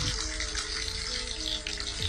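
Meat sizzles as it burns, making a dense, continuous crackling hiss that sounds like falling rain. It lasts about two seconds, close and steady, with no talking.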